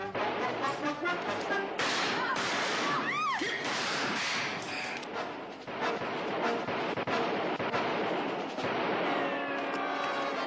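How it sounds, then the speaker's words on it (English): Dense gunfire in a western shootout, sharp overlapping shots and ricochet whines over a continuous loud battle din, with one swooping whistle midway. "Start firing, boys. Make them keep their heads down."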